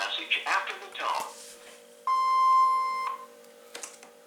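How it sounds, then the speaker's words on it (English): A steady, loud electronic beep lasting about a second from the answering system of an AT&T CL82301 DECT cordless phone, following a short stretch of synthesized voice and then a faint click. "please leave a message after the tone"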